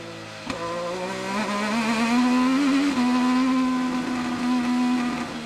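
An IndyCar race car engine at the Detroit Grand Prix street circuit holds a steady, loud, high-pitched drone near at hand, its tone sliding slightly as the driver eases off the throttle into a turn, with no voices over it.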